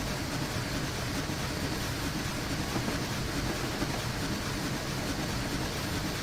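A Challenger steam locomotive in Train Simulator Classic labours on a 1% gradient, giving a dense, steady roar and rattle that holds level throughout with no distinct chuffs or talk.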